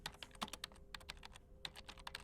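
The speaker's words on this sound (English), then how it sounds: "The keyboard clicked loudly as they typed your information in" A computer keyboard at a reception desk clacks under quick, uneven typing, with crisp close keystrokes in short bursts and a brief pause midway.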